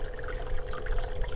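Water streams steadily across a tilted concentrating table, a continuous close rushing and trickling wash with no voices.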